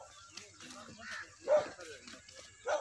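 A sniffer dog searching for a thief gives a few short yips and whimpers at moderate distance, heard amid low background murmur and movement.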